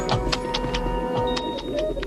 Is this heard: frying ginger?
no